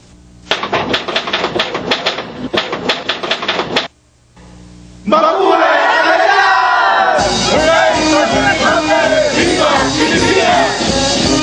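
At Manuel Rojas's inauguration in front of the ruined legislative building, a rapid rattling clatter gives way after a short gap to a loud, dense roar of a shouting crowd that swells and continues to the end.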